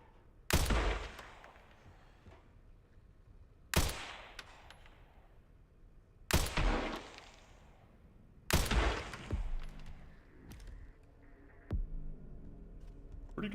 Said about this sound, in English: Let me just do a little bit of sniping